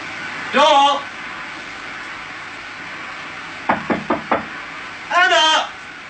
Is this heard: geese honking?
no